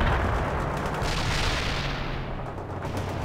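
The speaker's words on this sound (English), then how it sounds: "Load your grenades now and fire!" Grenade launchers and gunfire in the real-time strategy game World in Conflict: Soviet Assault, a dense continuous barrage of booms and crackling shots with heavy low rumble, loud and sustained without pause.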